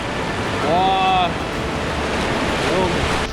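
Whitewater rapids of the Futaleufú river at low water give a steady, close roar of churning water, with a brief voice rising over the rush early on.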